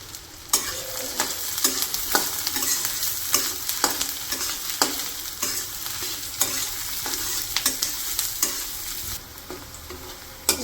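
Onions and chilies, with bay leaves, sizzle and crackle steadily in hot oil in a village kitchen, broken by repeated sharp scrapes and knocks of a spoon stirring the pan; no talking.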